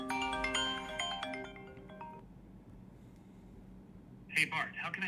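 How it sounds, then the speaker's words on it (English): A phone rings from an automated outgoing call, a bright electronic ringtone melody playing loudly for about two seconds, then quiet before a voice begins speaking. "So my phone will start to ring."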